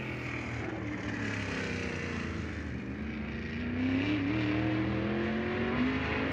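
A race car at speed during qualifying at Lucas Oil Speedway in a High Limit Racing event. Its engine roars steadily and climbs in pitch and volume partway through, with no talk.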